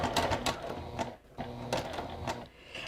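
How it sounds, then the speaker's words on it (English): A sewing machine stitches a seam along a quilt border toward the corner, running in close, rapid mechanical bursts with brief pauses between runs. "So I'm just going to stitch right up to it"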